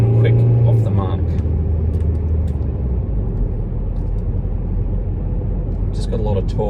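An old Saab turbo diesel car in sport mode pulls away hard: a loud, low engine rumble builds and holds inside the cabin while someone talks over it.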